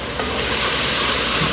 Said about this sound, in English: I want the sausage to get a little bit browner before I drain it